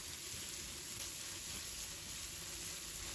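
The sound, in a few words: stir-frying tomatoes with bean paste in a wok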